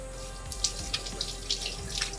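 Tap water running steadily into a kitchen sink while hands are washed during chicken cooking, with close splashes and drips over a continuous flow and no talking.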